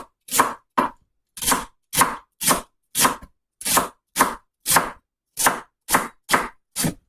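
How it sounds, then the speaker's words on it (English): Knife chopping celery stalks into roughly 1/8 inch slices on a board: a steady series of about fourteen crisp, separate cuts in an even rhythm, close and clear, with no talking. "we're going to cut up our celery"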